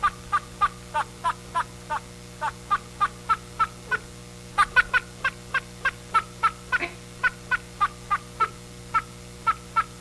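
A talking duck recording playing a rapid, regular series of short nasal quacks, about two per second, steady and fairly close over a low hum, with no talk.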